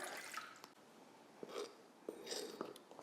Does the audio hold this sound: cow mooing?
no